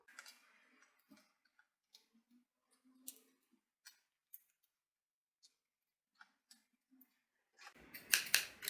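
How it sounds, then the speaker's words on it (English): Scissors cut fabric pieces in sparse, quiet snips spread across the stretch, with a louder burst of rapid cutting at the end. "I'm just trying to cut the least fabric possible"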